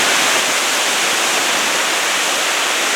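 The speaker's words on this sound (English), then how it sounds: "you can see the speed of the water gushing past" Fast mountain stream water gushing past beside a trail to Lake Narda Devi in Sharda, Azad Kashmir, a steady, loud, close broadband rush that fills the whole clip without a break.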